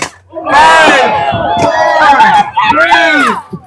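A crowd at an Idaho Renaissance fair contest cheers and yells for a competitor, loud and close, with whoops and shouts in bursts over several seconds.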